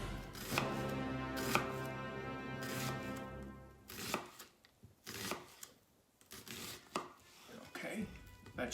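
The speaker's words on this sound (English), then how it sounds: "And this way you can get a good chop." A knife chops food on a cutting board in a home kitchen, sharp close strikes in an irregular rhythm with brief pauses between bursts and no talk.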